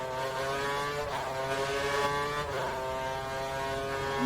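A Lotus race car engine in a racing video game, a steady high-pitched engine drone holding near-constant revs with slight swells, close and loud, with no talk.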